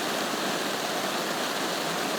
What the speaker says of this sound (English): it is pouring right now